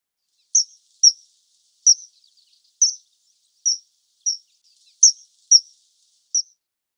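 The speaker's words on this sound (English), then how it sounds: "Kingfisher." Kingfisher calling with a string of about nine sharp, high, thin chirps spaced roughly half a second apart, clear and isolated against silence.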